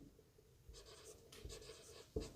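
Pen scratching across paper in short strokes during a maths class, faint and close, with a quiet room behind it.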